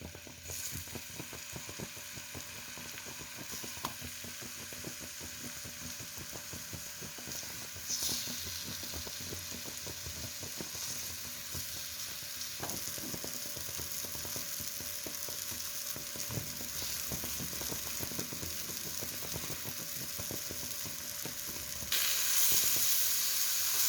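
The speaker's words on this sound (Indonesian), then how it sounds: "Melelehkan margarin, boleh menggunakan margarin atau butter sedikit aja. Nah, pisangnya dimasak." Banana pieces fry in melted margarine in a pan, giving a steady crackling sizzle throughout that grows slightly louder partway through, with occasional stirring clatter and no talking.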